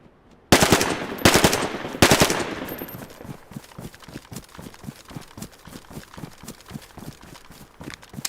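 Gunfire in the survival game Livonia: three loud, close bursts of shots in the first two seconds, then a long train of fainter rhythmic thuds like running hoofbeats or footsteps.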